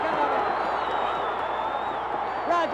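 Wrestling arena crowd at a televised NWA title match roaring steadily throughout, a dense continuous wash of cheering and applause with no lulls and no clear speech on top.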